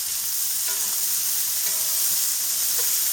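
Beef tips sear in a very hot cast iron pan, a steady loud sizzle and crackle of frying meat running unbroken throughout, with occasional faint pops, no voices.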